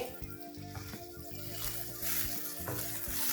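Chopped vegetables sautéing briefly in a pan for a lentil and ragi soup, a faint soft sizzle with light stirring and scraping at close range.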